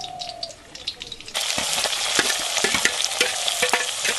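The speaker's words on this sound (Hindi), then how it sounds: "प्याज भुन चुका है" Onion hitting hot oil with cardamom, garam masala and chilli in a pan: a sudden loud sizzle bursts in after a quiet start, then a steady close crackle with stirring knocks.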